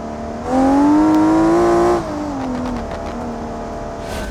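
A race car engine in BeamNG revs hard with a rising harmonic whine as throttle pushes the rear end into a slide, then backs off to a lower, uneven drone with faint tire scrubbing.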